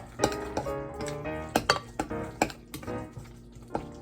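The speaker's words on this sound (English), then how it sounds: "I'm gonna mix this all up, and then I will add the 3 eggs in." Spoon clinking and scraping around a bowl while egg salad with relish is mixed, a run of close, irregular taps and clinks with no talking.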